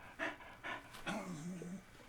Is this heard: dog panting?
yes